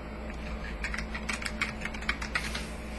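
Someone types on a computer keyboard, a quick run of close, light key clicks and taps, fairly even in rhythm and heard alone.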